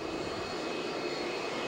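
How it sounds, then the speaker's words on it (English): A jet dryer roars continuously on a racetrack oval during a caution period, a loud, steady turbine rush with no break and no one talking over it. "there's the jet dryer"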